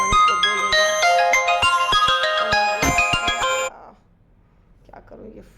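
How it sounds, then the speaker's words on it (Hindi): A mobile phone ringtone plays a tinkling melodic tune for several seconds, loud and close, then cuts off abruptly, leaving faint room noise and a brief voice at the end. "ये डू नॉट डिस्टर्ब पे कैसे फ़ोन आ रहा है समझ में नहीं आ रहा।"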